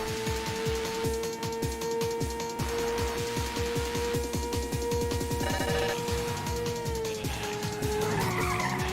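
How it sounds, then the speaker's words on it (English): A race car in the PS1 game Ridge Racer skids through a drift with a sustained tire squeal over a steady engine whine, ending in a wall impact near the end, loud and continuous with no talk. "Even with a drift, I still hit the wall."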